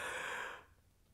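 A person yawning naturally with the face relaxed and mouth uncovered, a loud breathy open-mouthed exhale that fades out after about half a second into near silence.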